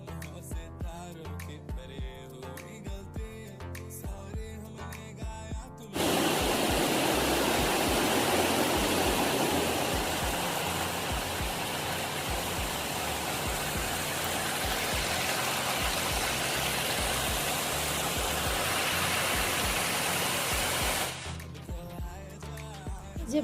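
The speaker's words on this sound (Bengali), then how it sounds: "এই সেই জলঢাকা নদী, প্রচণ্ড খরস্রোতা।" Fast-flowing Jaldhaka river on the India–Bhutan border near Kumai Forest, a loud, dense, steady rushing roar of water that holds for about fifteen seconds, framed by quieter background sound before and after.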